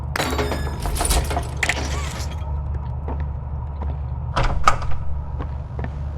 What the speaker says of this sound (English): To open this door